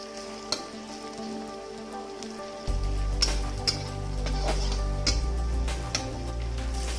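Fish and spices frying in hot oil in a pan for Assamese thekera tenga. A soft, steady sizzle begins partway through and runs on under a few sharp clicks and taps, with no talking.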